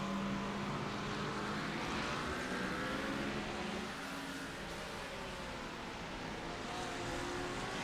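Race car engines in the iRacing simulator at Imola, a steady loud broadband roar of several cars blending together, pitch wavering slightly as they run down the straight, with no talking.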